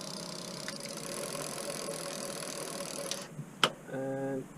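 A Bafang mid-drive e-bike motor whirs with a steady, close mechanical whine, then cuts off, followed by a sharp click and a brief voice.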